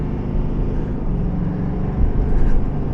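A 2026 GMC 2500 AT4X AEV heavy-duty pickup of about 7,000 pounds accelerates at full throttle from a stop, a loud, steady engine roar and road rumble heard from inside the cab, building slightly toward the end.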